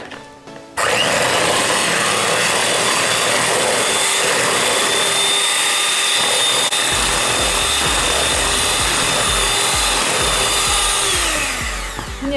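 Electric mixer whirring steadily as it beats four eggs, a loud continuous motor drone with a slight pitch shift and added low rattling of the beaters against the bowl partway through.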